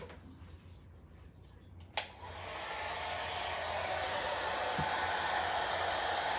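A hair dryer starts with a sharp click and runs with a steady, loud whoosh while drying a signpost.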